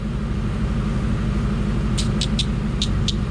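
A Saleen car engine runs on a dyno with a loud, steady low rumble throughout, and a few short sharp ticks or clicks come near the end.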